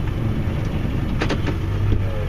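A vehicle plowing snow in January, with a steady low engine drone and scraping rumble close by, plus a couple of brief mechanical clunks partway through.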